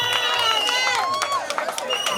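A church congregation at a thanksgiving celebration cheers and acclaims together in a dense, loud wave of shouts and high voices, with children and chatter mixed into the crowd.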